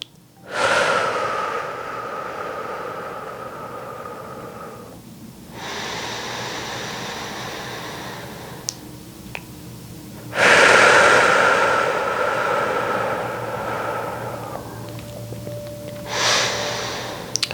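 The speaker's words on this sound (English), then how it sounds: "Take some deep breaths." Slow, deep breaths drawn close to the microphone, four long airy inhales and exhales in a steady rhythm against a quiet room, with no talking.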